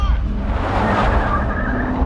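In a scene from the horror film It Follows, a stolen car drives off with a steady, loud engine roar and road rumble, over a faint murmur of voices.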